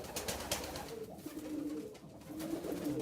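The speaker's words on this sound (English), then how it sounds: "All the pigeons." Pigeons coo softly in an aviary lined with nesting boxes, low murmuring calls rising and falling through a steady, busy background rustle and hiss.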